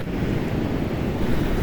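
Strong wind roars across a steep trail on Mount Merbabu, a dense, continuous buffeting rush that batters the microphone throughout, with no voices.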